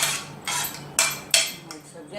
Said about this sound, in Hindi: ये सब सामान जो भी हमारा फिलिंग का, इसमें सब बड़े बर्तन में लेकर के सबको मिक्स कर लेना है।